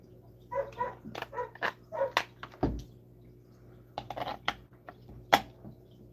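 A nearby dog gives a rapid series of short barks and yips, some whiny, in irregular bursts against a low steady background hum.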